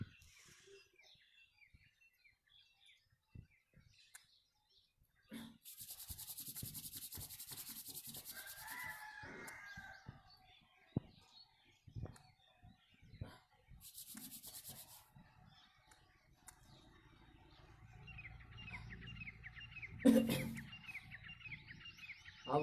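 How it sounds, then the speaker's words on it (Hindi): Two palms rubbed together during an eye massage make a soft, brisk friction swish in two short stretches, with faint birdsong and scattered light handling noises in a quiet room. "दोनों हथेलियों को आपस में रगड़े"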